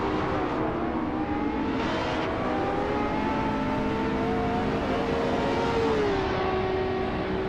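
A 2020 Apollo Intensa Emozione race car in a racing video game, a steady high engine whine with shifting pitch holding loud and continuous under a wash of track noise.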